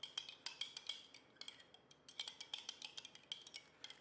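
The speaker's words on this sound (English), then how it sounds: "The honey is very thick, so I'll give it a little stir." A spoon stirs thick honey in a container, making quick, faint, rhythmic metallic clicks and taps that repeat steadily for several seconds with no voices.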